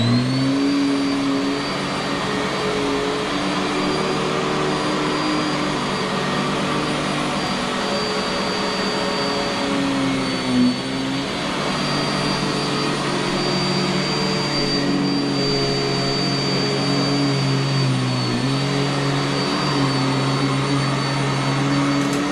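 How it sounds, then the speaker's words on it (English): A vacuum cleaner runs steadily on carpet for the whole stretch, a loud continuous motor whine with a faint shift in pitch near the middle and again toward the end, with no voices. "she's gonna do some vacuuming"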